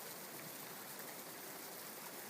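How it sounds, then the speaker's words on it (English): Steady rain falling onto a tree, a soft continuous broadband hiss of drops on leaves, even and unbroken throughout with no voices. "It's not just this tree that's blocking the rain right now."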